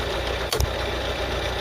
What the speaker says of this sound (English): it's not alright, the engine's knackered